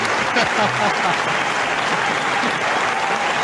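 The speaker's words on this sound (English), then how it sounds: "Let us give Eng Seng a round of applause" Audience applause at a talk, a dense sustained clapping from a crowd throughout, loud and close.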